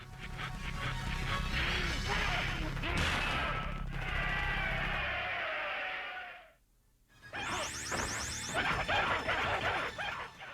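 Objects smashed in Mortal Kombat's Test Your Strength bonus game, a dense burst of game crashes and effects that drops to a brief gap, then resumes with sharp hits and chimes.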